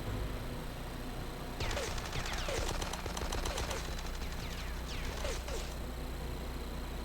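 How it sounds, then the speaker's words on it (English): Video game gunfire rings out in Die Hard Nakatomi Plaza, rapid automatic bursts of shots firing for several seconds after a quiet start, then cutting off. "He's shooting me from somewhere"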